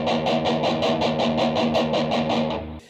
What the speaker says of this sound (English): we're just down picking the top E string